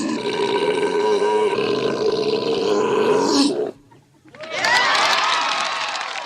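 Camels mating give a long, loud guttural roaring groan, a deep bubbling burp-like bellow that breaks off briefly and then resumes with a raspier, higher roar.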